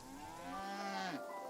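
A single long cow moo from a video game, loud and close, holding steady before bending downward at the end, with no voices over it.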